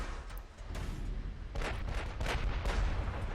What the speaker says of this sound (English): Here we have yet another volley coming in.